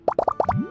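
Ingredients such as lizard tails, fish scales, mucus and slime condensate dropped into a drink in Genshin Impact, five quick wet plops in a row, close and clear, ending with a rising bubbly glide.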